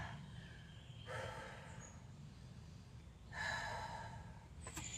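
Two slow, deep breaths during a yoga flow, each a soft breathy exhale of a few seconds, close and quiet over a low background hum.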